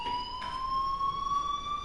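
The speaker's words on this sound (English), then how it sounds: "Hey, do you hear that fire alarm?" Fire alarm in the video game Life is Strange sounds as a loud, steady electronic tone with sharp stacked harmonics, holding almost flat and continuous with no voices over it.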